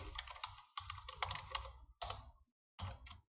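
Rapid bursts of clicky keystrokes on a computer keyboard, close and fairly quiet, with short pauses between runs of typing and no talking.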